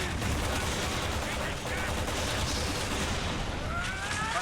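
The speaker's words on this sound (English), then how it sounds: "so our assault rifles don't work on this guy at all" Assault rifle fire in Resident Evil 6 rattles in a loud, unbroken automatic stream, dense and close, with talk faintly underneath.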